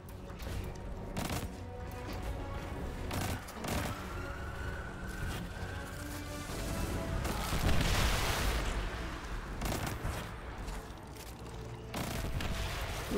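Heavy-weapon gunfire from the video game Destiny, a dense, continuous stretch of rapid bursts and impacts layered over busy game effects, steady and loud throughout.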